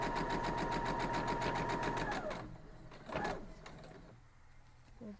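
A sewing machine stitching a spin city quilt block runs in a fast, even whir for about two seconds, then stops, followed by a short close rustle and clicks of fabric handling.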